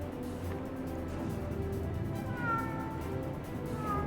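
A cat in a video game lets out a couple of faint meows over a murky background drone, one near the middle and another at the end.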